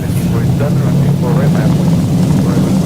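Airliner jet engines spooling to takeoff thrust on runway 36 in X-Plane flight simulator, a steady loud roar throughout.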